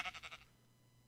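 A Minecraft sheep bleats in quick wavering pulses, close and clear, then quiet with a faint click at the end.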